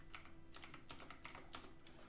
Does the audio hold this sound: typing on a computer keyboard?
yes